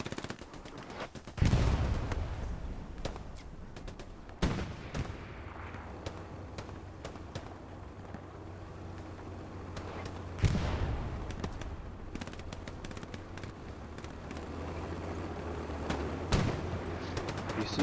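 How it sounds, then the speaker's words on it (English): Crossfire in the World War II shooter Hell Let Loose: sporadic rifle shots and distant machine-gun bursts crack across a battlefield, with a few sharper nearby reports over a low rumble and no talking. "we've got quite a crossfire here"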